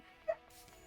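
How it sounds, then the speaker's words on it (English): A single short yip from Peaches, a pet dog, fairly faint and brief against a quiet room. "They've been let out a bunch of times. I'm talking about the dogs."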